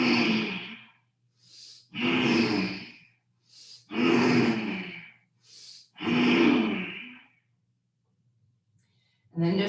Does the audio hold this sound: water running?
no